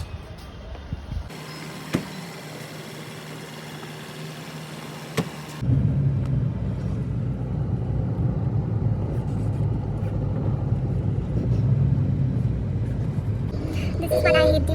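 Steady engine hum and road rumble inside a booked cab driving through traffic on the way out of Dehradun, a low continuous drone that grows louder after a quieter opening stretch, with no talking.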